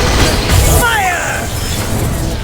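A fire spell blast in a wizard video game during a boss fight: a loud whooshing burst with a crackling, rising swirl of magical effects, overlapped by a voice.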